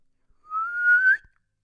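A person whistles in imitation of a referee's whistle, one sustained rising tone lasting under a second, close and clear with no talking.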